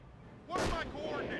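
An explosion bursts in the World War II strategy game Company of Heroes, a sudden loud blast with a short rumbling decay that follows a quieter stretch of battle noise.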